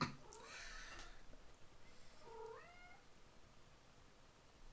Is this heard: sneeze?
no